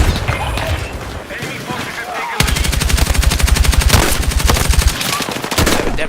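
Gunshots in a chaotic video game battle: loud, rapid machine-gun bursts with evenly spaced shots dominate the middle, with further firing before and after and a voice talking over it.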